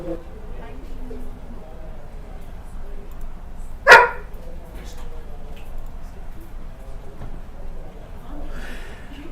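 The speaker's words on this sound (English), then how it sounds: "My dog appreciates you in the background" A dog gives a single sharp bark in the background of a live broadcast, brief and fairly loud against a low background hum.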